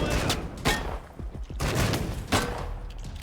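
Gunfire in the Wasteland 3 video game, several sharp shots and bursts in irregular rhythm with dull thuds between them, fairly close and loud.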